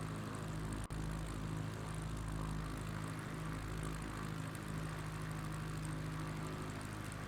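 Steady propeller airplane engine drone in Microsoft Flight Simulator, continuous and loud with a constant low hum, broken only by one brief click near the start.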